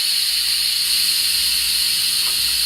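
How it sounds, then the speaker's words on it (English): Steady loud hiss of steam venting from an Instant Pot multi cooker during a quick pressure release, continuous and close, with no talking. "So I'm going to shut this off, do a quick pressure release."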